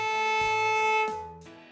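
A single bowed open A string on a viola, held steady at moderate loudness and then tapering off near the end, heard alone.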